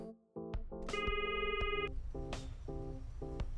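A telephone rings in the video game The Secret Life of Mr Sato, giving a loud, steady electronic ring in a repeating pattern of short bursts and one longer tone, clear and alone with no talk.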